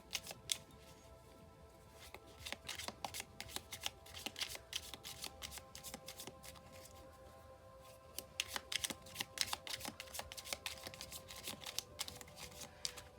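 A tarot deck is shuffled and cut by hand, giving a long stretch of dense, crisp card riffling and flicking. The sound is close and steady, grows busier toward the end, and has no talking over it.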